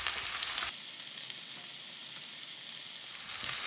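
Onions frying in a pan for a restaurant-style shahi chicken handi gravy, giving a steady, close sizzle that holds evenly throughout with no talking.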